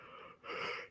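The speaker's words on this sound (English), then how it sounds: "Why am I yawning at 10 o'clock?" A man's long, breathy yawn, starting softly and swelling into a louder drawn-out exhale near the end, close to the mic, with no talking.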